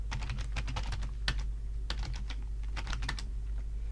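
Keys clatter on a computer keyboard as a password is entered, a quick irregular run of close, crisp taps with short gaps between clusters and a steady low hum beneath.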